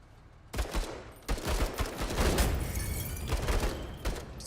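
Gunfire in the video game Menace, bursts of rapid automatic shots starting abruptly and rattling densely for several seconds, loud and close with brief gaps between volleys.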